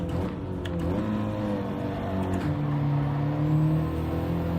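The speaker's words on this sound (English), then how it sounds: "Watch this upshift to third here, coming through this corner." Engine of a car in a racing video game held at steady revs, with a pitch dip and climb around the change into third gear through a corner, loud and continuous with no talk.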